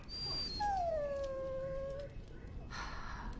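A dog in the video game Dragon Age Origins lets out a long, high, descending whimpering whine that fades into quiet, sounding close and alone over faint game ambience.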